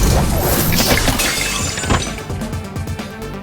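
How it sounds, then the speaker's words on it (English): Loud crashing smash of bones in the Fate/Stay Night visual novel game, a dense, shattering burst that rings briefly and then settles into a rougher, fading clatter. "After that, Saber smashes away the bones to protect my back."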